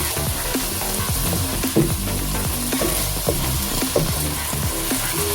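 Chicken pieces and cheese sizzle steadily in a hot pan on lowered heat for a quesadilla filling, a loud dense fry broken by scraping and stirring strokes, with no speech.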